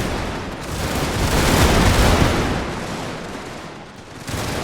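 Sustained roar of massed musket volleys rolling together in a Mexican-American War battle in Victoria Total War, loud and dense, swelling and fading with overlapping gunfire and no talk.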